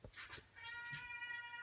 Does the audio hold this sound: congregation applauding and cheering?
no